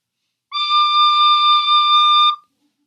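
A single sustained note D on a wind instrument, fingered with only the middle finger on the second hole and the thumb hole open, in a lesson on the tune When the Saints Go Marching In. It holds steady and clear for about two seconds, alone.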